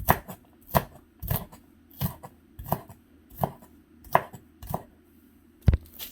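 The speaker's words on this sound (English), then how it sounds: "So now that we have our half onion cut up" Half an onion chopped with a knife on a cutting board, about ten sharp evenly spaced knocks at a slow steady pace, close and clear with no talking.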